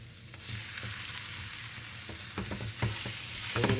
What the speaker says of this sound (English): we're going to put our ground beef in here